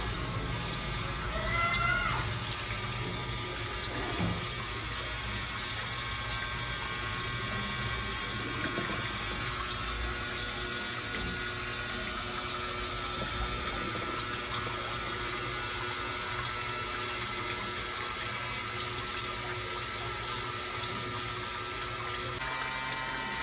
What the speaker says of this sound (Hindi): अब आपने मज़ीद पंप को 20 मिनट तक ऑन रखना है।